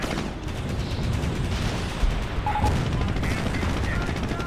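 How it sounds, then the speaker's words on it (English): A howitzer fires in a real-time strategy video game, with loud booming shots over continuous rumbling battle noise, steady and dense throughout. "the American player continues to fire his howitzer"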